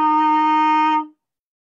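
A trumpet leadpipe with the tuning slide removed, buzzed to sound a concert E flat, gives one steady bright tone lasting about a second before cutting off, alone and close.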